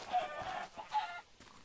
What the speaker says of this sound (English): So if I kill a chicken, it gives me experience.